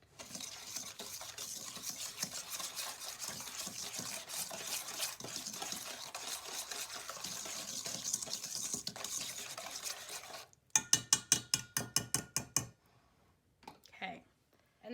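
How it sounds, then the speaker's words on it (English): A spoon scrapes and stirs butter and sugar together in a bowl for cookie dough, in a busy, continuous rhythm, then turns into a run of sharp, evenly spaced taps and knocks against the bowl before falling quiet. "it says to mix the butter with the sugar until well combined"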